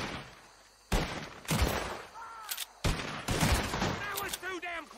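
Gunfire from a Red Dead Redemption 2 fight: several sharp, loud shots burst in close succession, each with a bright crack and trailing echo, mixed with game sound effects and tonal chimes.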